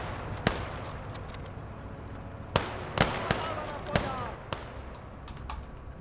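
Machine gun fire in a Motherland video game battle, a scattering of sharp distant cracks and short bursts over a rumbling battlefield bed, moderately faint, with a voice talking over it.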